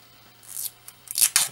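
Protective film peeled off a piece of a brass knuckle vape stand, a few short dry rips and crackles in bursts near the end, close and moderately loud with a faint steady hum underneath.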